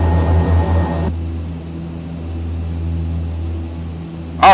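Steady propeller drone inside the cabin of a Saab 340A in the X-Plane 11 flight simulator, a low constant hum with tonal bands, loud and continuous, briefly rising near the end.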